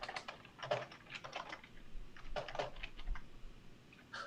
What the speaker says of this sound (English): You can tell the stress of typing on Cam is already getting to me here